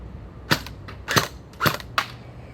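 A WELL M401 gel ball blaster fired on semi-auto, giving four sharp, snappy pops spaced about half a second apart, close and fairly loud against a quiet background.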